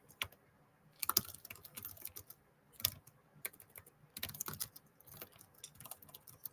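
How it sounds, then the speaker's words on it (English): Rapid, uneven bursts of keystrokes on a computer keyboard clatter close by, with short pauses between flurries and no talking. "I'm just trying to talk and type at the same time"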